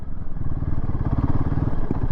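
A Royal Enfield Himalayan 450 motorcycle rides offroad on a bumpy trail near a lake. Its engine thrums at a steady low pulse with clattering from the rough ground. The sound stays close and continuous, with no talk over it.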